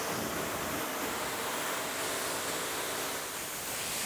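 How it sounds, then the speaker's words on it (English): Steady, broad hiss of water spraying over the paint of a new Lexus LFA during a rinse, loud and continuous with no breaks or voices. "then I rinse once again"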